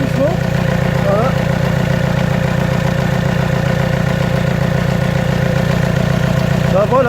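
A diesel engine idling steadily during an injector test, a loud continuous low rumble with even rhythmic pulsing that holds throughout and has faint, brief higher sounds on top.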